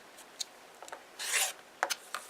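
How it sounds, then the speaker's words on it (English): Fabric is trimmed around a sewing shape, with soft scattered snips and a quiet rasping cut of about a third of a second, then a few more brief snips, close and faint with no talking. "now I'm ready to trim all the way around"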